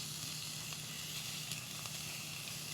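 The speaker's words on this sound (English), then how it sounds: "We're going to cook our onions down a little bit." Onions sizzling steadily as they cook down in a pan, a close, continuous bright crackling hiss with small pops, no voices.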